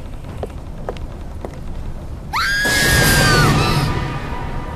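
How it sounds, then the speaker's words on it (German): A sudden, shrill scream rises and wavers from a room behind a door aboard a ghost ship in the video game Black Sails, breaking through low rumbling ambience and faint earlier clicks. "Der Schrei kam aus dem Raum hinter dieser Tür."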